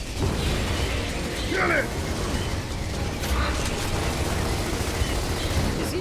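Grenade explosions in the video game Gears of War, heard as loud bursts and pops over dense, constant mechanical battle noise, with a shouted voice briefly on top.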